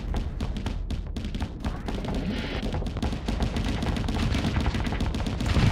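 Rapid, continuous bursts of ship gunfire in the space game Starsector rattle on for several seconds, dense and loud with heavy thuds throughout.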